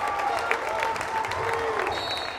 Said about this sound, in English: Crowd erupts as we get a timeout.